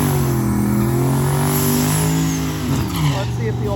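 Old Pontiac drag car launching at a drag racing event: loud, close engine roar with rising revs, held at full intensity throughout, with a brief dip and pitch shift near the end.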